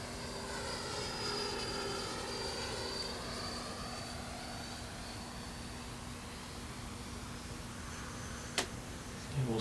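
A Freewing 64mm F-14 Tomcat RC jet with wings swept back roars past at full speed, a steady whining ducted-fan drone that shifts in pitch as it passes at a distance, followed by a brief sharp click near the end.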